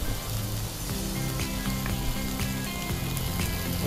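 Tomatoes and onions fry steadily in a hot pan, a dense continuous sizzle with light crackling pops throughout, fairly close and even in level, with no talking.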